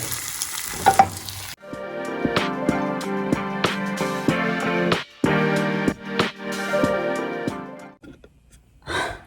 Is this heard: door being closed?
no